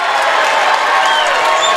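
A crowd roaring and clapping in a high school gym during a home basketball game, a loud, continuous wash of cheering and applause.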